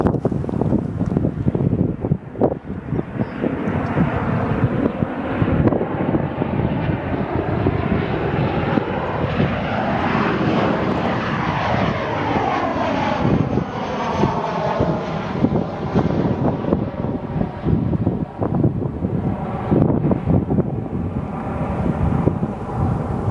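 Jet airliners at O'Hare International Airport in Chicago roar steadily throughout, a loud continuous engine rumble rising and fading as aircraft pass, with gusty wind buffeting the microphone on a warm summer day.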